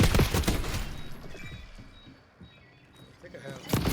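Rapid hip-fire gunfire from Call of Duty: Warzone multiplayer, dense bursts of shots at the start and again at the end, with quieter game noise and talk in between.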